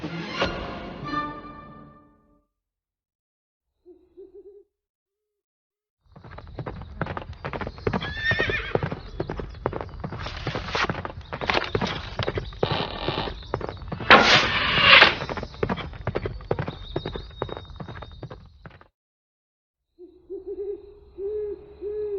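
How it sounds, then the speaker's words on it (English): Rapid, rhythmic hoofbeats of a galloping horse pound on for several seconds, with a brief whinny near the start and quieter pauses around the run. "riding full speed through the countryside on her horse Angus"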